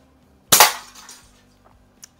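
A repaired West German FB Record Jumbo cap gun fires one sharp, loud crack that rings briefly and decays, followed by faint mechanical clicks and a small tap.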